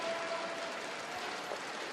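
An arena crowd at the 2015 World Women's Curling Championship semi-final, Russia against Canada, applauding a game-winning double takeout, a dense steady patter of clapping that sounds distant and holds evenly throughout.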